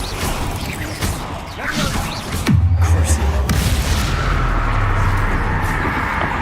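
Spell explosions in the video game Hogwarts Legacy: a dense run of booming blasts and whooshing impacts, then a deep rumbling detonation that trails off into a sustained roar, loud and close.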